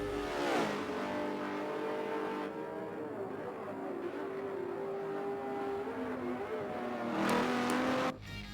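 A Ferrari GT race car's engine drones loudly during a race, the pitch sliding and holding as it revs, then a sharp upshift-like rise near the end before the sound drops away.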